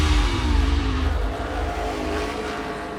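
NASCAR Cup Series race cars roar loudly as they accelerate hard off pit road, their engines revving in a dense, pulsing drone with a heavy low rumble that eases slightly after the first second.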